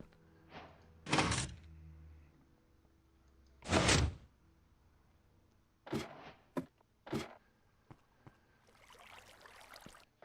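A door in a Minecraft house opens and shuts twice, two loud separate thuds a few seconds apart, followed by lighter clicks and taps against a quiet background.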